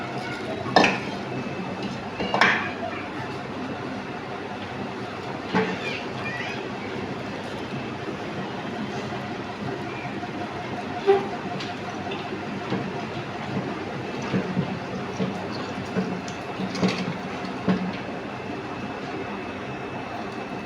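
A manual meat mincer grinds keema in a home kitchen with steady grinding and metallic clanks and knocks at uneven intervals. The sound is close and moderately loud and runs continuously under a low background hum.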